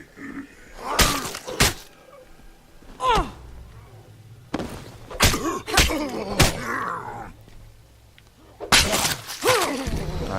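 Melee finisher in the zombie game State of Decay, a few heavy thuds and impacts in short bursts with pauses between, fairly loud against a low game backdrop.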